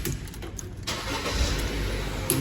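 A MK5 Ford Fiesta Zetec petrol engine cranks on a freshly replaced starter motor and fires up quickly, settling into a steady, close idle.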